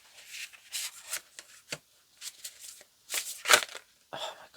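Tarot cards are shuffled in quick, crisp riffling bursts separated by short pauses, close and fairly quiet, with no talk over them.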